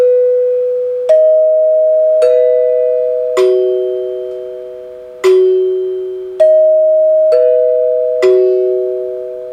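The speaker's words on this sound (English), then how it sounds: "it's not a real Westminster chime. It's only got 3 notes, but it's played in an order that sort of simulates a Westminster chime" A NuTone dinner chime rings a three-note faux Westminster sequence, with clear, loud bell tones struck one after another at slightly uneven intervals, each tone ringing on and slowly decaying, with no voices.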